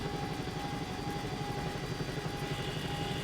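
A Bell 222 helicopter engine in the X-Plane 11 flight simulator, an old chopper, drones with a continuous rotor and turbine roar that holds a steady level throughout, with no talking.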